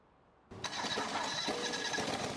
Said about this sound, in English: Start the engine up.